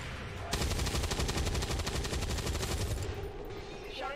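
Overwatch gunfire in the turn-based strategy game XCOM 2, Long War of the Chosen mod: a rapid, loud burst of automatic weapon fire lasting around two and a half seconds, close and dense.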